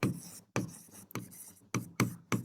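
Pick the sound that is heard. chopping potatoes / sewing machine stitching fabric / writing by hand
writing by hand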